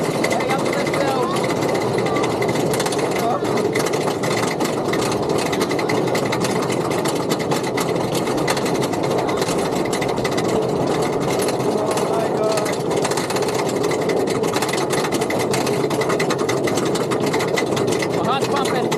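The Iron Gwazi roller coaster at Busch Gardens Tampa climbs its lift hill with a continuous loud mechanical clatter and drone that holds steady throughout, mixed with wind and rider noise.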